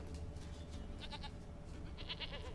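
Goat bleats in The Witcher 3: Wild Hunt, a few short repeated calls over a steady game ambience of low hum and background noise, moderately close.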